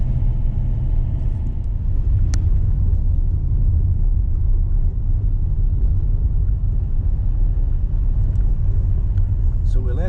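A car climbs a snowy road in Glen Affric, its engine a steady low rumble heard from inside the cabin for the whole stretch, with a brief click near the start and faint noises toward the end.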